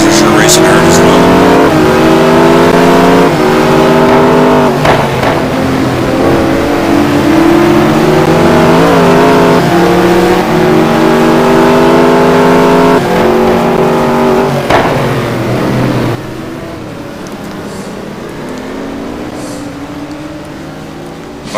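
GT1 race cars battling at Valencia in a racing game, a loud, dense engine drone with revs climbing and dropping as cars pass, commentary running over it, then the sound drops to a quieter engine hum near the end.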